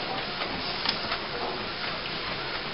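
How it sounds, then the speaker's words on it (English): An Epson DX9400F inkjet printer fitted with a continuous ink supply system runs with a steady mechanical whir and hiss, with faint ticks during printing. "Your printer is printing."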